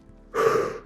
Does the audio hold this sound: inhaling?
yes